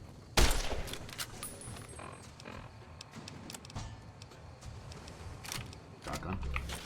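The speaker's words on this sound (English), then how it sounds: "Nothing like a shotgun." Shotgun blasts in Fallout: New Vegas, a few sharp, booming reports scattered through a steady wash of game sound, the first loud and close, others spaced irregularly.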